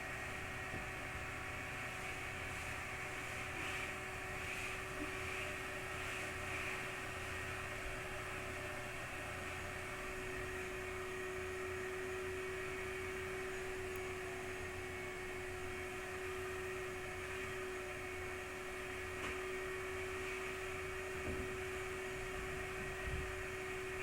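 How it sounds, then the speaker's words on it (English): A vacuum cleaner runs somewhere in a house, a steady droning hum with a fixed tonal whine that holds evenly, moderately distant and unbroken, with no talking. "if the vacuum's annoying until she's done"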